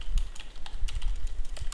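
Rapid, irregular keystrokes clatter on a computer keyboard while Java code is typed, close and clear, with no voices over the tapping.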